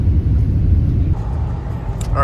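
Car driving through Los Angeles traffic, a low steady engine and road rumble heard from inside the cabin, with a voice talking over it.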